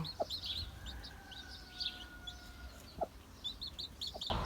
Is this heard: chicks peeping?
yes